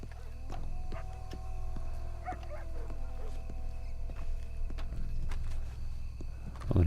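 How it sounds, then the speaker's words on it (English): In the Red Dead Redemption 2 video game, a dog gives several short barks and whimpers amid hoof clip-clops and game ambience, moderately close. "Shush. Dog. Stupid mutt."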